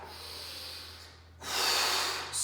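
A sharp inhale and then a longer, louder breath during a chest press exercise in a workout session, close to the microphone with no talking.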